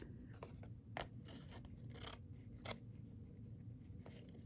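Scissors snipping through a flower sticker to cut it in half: a few soft crisp snips and rasping cuts, close and quiet, over a steady background hiss.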